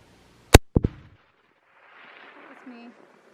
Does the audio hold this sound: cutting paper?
no